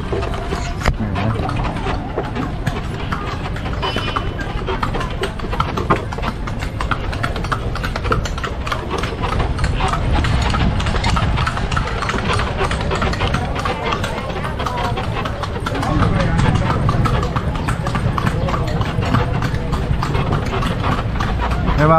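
A horse pulling a kalesa carriage clip-clops through the streets of San Fernando, a steady rhythmic hoof beat running the whole time under town traffic noise and people talking.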